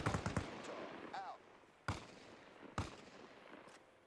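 Gunfire in an ARMA Reforger combat scene: three sharp shots stand out clearly, spaced apart against a dim background of rumble and scattered noise, with a brief burst of faint talk near the start.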